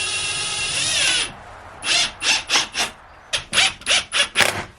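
A power drill driving screws to fasten casters onto the bottom of a wooden box, one long whine followed by a run of short, loud revving bursts in a steady rhythm, close up.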